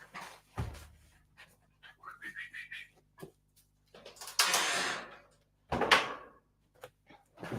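A Jack Russell terrier pants in short, quick bursts close by, mixed with a few soft knocks and rustles and a faint whistle-like tone, with no voices.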